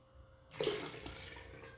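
Tap water at room temperature poured into a 240 ml measuring cup, a steady splashing gush that starts abruptly and continues for over a second, close and fairly loud, with no talking.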